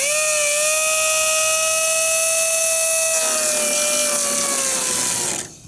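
A power tool cuts out a section of a crashed Honda S2000, a loud steady whine with a held pitch that drops slightly partway through, running continuously close by before cutting off.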